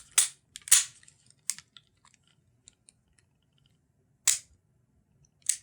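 Dry firing an unloaded Colt New Service revolver: a few sharp, dry mechanical clicks from hammer and action, spaced irregularly, close and crisp over a quiet background, with faint small handling ticks in between.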